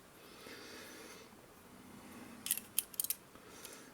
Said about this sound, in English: now let's fold this thing away